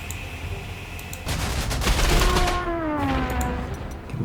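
Gunfire in the World War II strategy game Panzer Corps 2, a dense burst of rapid shots and booms that fills most of the stretch, loud and close, with a short tonal whine trailing through it and no talk.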